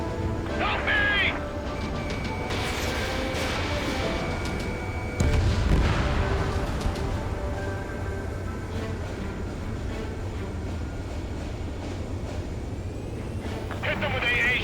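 Bombing and anti-aircraft fire rumble through an Ace Combat 7 battle, with deep booms and a continuous heavy roar of explosions and engines, loud throughout, while voices talk over the noise.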